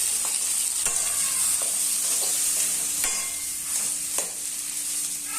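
Cumin seeds frying in hot oil give a steady sizzle, while a utensil stirs with a few sharp scraping clicks in the pan, close by and with no one talking.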